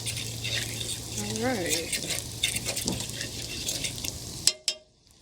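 Liver and onions simmer in a pan outdoors with a steady bubbling hiss and scattered stirring clatter, while a voice speaks briefly; the sizzle cuts off abruptly near the end after a sharp knock.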